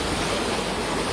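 A raging flooded river in Bontoc, Southern Leyte, swollen by a typhoon, rushes in a loud, dense, unbroken roar of churning water.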